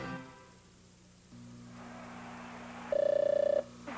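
A Zenith Space Phone in a TV commercial rings with a clear electronic telephone tone, a single sustained burst about half a second long, following a quiet stretch with a low steady hum.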